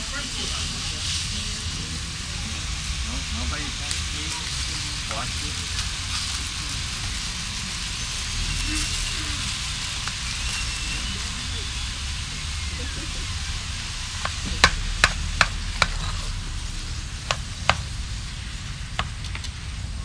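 Hamburger meat frying in a pan on a kitchen cooking show, a steady broad sizzle and hiss running throughout, with a few sharp pops and clinks near the end and voices talking over it.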